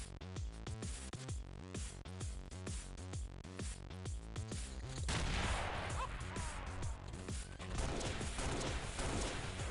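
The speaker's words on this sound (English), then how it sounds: "She has a quick fire plasma pistol" Rapid quick-fire plasma pistol shots in the sci-fi strategy game XPiratez, a dense rhythmic burst of electronic gunfire followed by a louder, noisier barrage of impacts and blasts, continuous and fairly loud.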